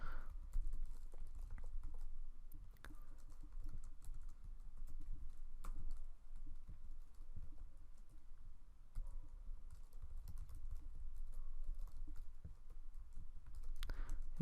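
Quiet, steady tapping on a computer keyboard goes on for around fifteen seconds, with irregular clusters of keystrokes and a few sharper clicks, and no voices.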